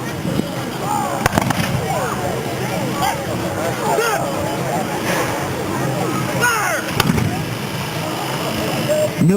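Black-powder muskets fire at a historic reenactment in Barrie, with a few sharp cracks and booms under steady crowd chatter and outdoor bustle.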